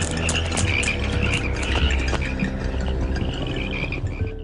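Frogs croak in a dense, continuous chorus, many overlapping calls forming a loud, busy wall of sound with no voices.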